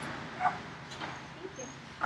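A spaniel mix dog gives a few soft, faint yips and whimpers, spread apart over a quiet room background.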